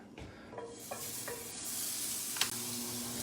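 Vegetables sauteing in butter in a hot pan, a steady close sizzle with a few sharp utensil scrapes and stirring clicks spread across it.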